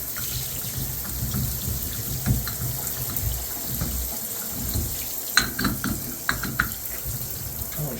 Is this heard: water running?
yes